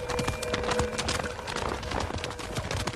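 A horse led away on foot, its hooves clip-clopping in a steady, close rhythm that carries on throughout over a busy background.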